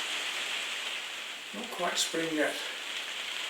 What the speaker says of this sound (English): Look at that rain coming down outside, pattering